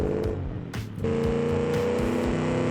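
Engine of a seven-litre V8 car in BeamNG.drive revving hard during a one-wheel peel, a loud droning roar that dips briefly then climbs and holds, no talk.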